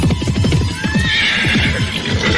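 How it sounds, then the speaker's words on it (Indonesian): Horse hooves in a steady galloping rhythm as the mount carries two riders toward a clifftop beside a river, close and loud, with a horse whinny rising partway through. "derap kaki kuda yang dinaiki Jaka Badak dan Dewi Astini menuju puncak tebing di pinggir Kali Dempet"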